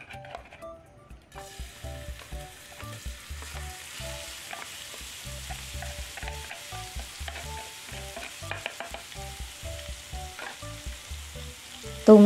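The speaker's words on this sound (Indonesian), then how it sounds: "Dan tumis bumbu yang sudah kita chop." Chopped spices sizzle in leftover chicken-frying oil as they are stirred and scraped, a steady frying hiss with light clinks of a utensil.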